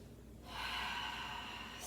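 Slow, deep breath through the nose during a yoga pose for the neck and shoulders, a soft quiet lull giving way to a long, airy, close exhale.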